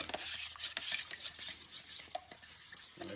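Paint tint mixture for smoking headlights being stirred in a cup, a steady scraping swirl with light clinks of the stirrer against the sides, close and continuous, no talking.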